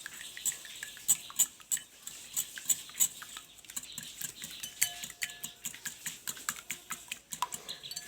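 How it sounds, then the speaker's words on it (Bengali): Two eggs beaten by hand with a whisk in a bowl for a sweet semolina cake soaked in milk, a fast steady run of light clicking strokes against the bowl, close and fairly quiet, with no talking. "এখন আমি ডিম দুটাকে একটা হ্যান্ড ওয়াশের মাধ্যমে ফেটিয়ে নেব।"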